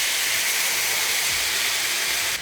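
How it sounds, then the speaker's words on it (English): Chicken stock poured into a hot pan of potatoes, raising a loud, steady hiss of sizzling steam that holds evenly throughout with no voices over it. "we're just gonna add about half a cup of stock, anywhere between half a cup and 3/4 of a cup, depending on the size of your pan"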